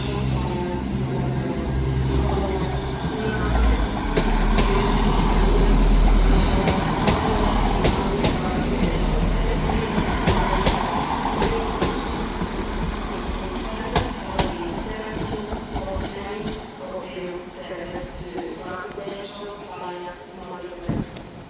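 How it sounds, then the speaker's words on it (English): A ScotRail service pulls out of Edinburgh Waverley bound for Tweedbank, a loud, close rumble of the train with clanking wheels and rail noise, gradually fading as it moves away, with station background and some voices. "out now is the 1344 Scotrail service, starting here at Edinburgh Waverley to Tweedbank"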